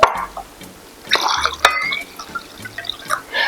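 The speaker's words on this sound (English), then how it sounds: "I'm going to go ahead and pour the water into the vinegar" Water poured into vinegar for a pickled okra brine, giving a few short splashy bursts and drips at close range, with no talking.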